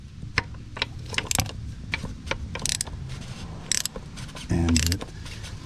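A plastic oil filter bowl on a 2.0 TDI VW MK6 Jetta is unscrewed by hand, giving off irregular creaks, clicks and scraping thread noises close up, with a brief louder grinding burst near the end.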